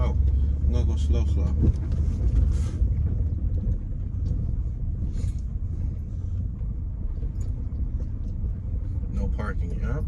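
A car rolls slowly along a rough street in New Orleans' Garden District, its steady low rumble and road noise continuous and close throughout, with bumps and jolts under occasional talk from the driver.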